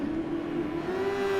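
An F1 race car engine in a racing video game revs under power out of a corner, a steady close buzzing drone with rising pitch.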